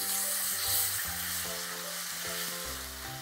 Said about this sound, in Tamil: இந்த மாதிரி நல்லா வதங்கி வர டைமில் கட் பண்ணி வச்சுருக்க தக்காளி